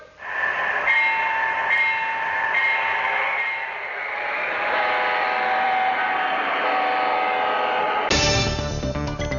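An MTH model train locomotive styled as the Amtrak Cardinal departs, its horn sounding in long blasts over rolling rail rumble, followed by a sudden burst of louder sound near the end.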